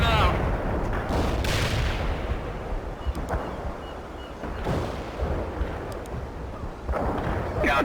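Artillery barrage in the Cold War strategy game World in Conflict: Soviet Assault, heavy booming shots and rumbling impacts repeating every second or two, with radio chatter voices mixed in.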